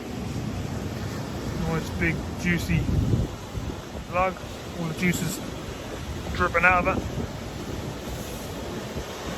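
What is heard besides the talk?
sea surf foaming up the beach at Southwold Pier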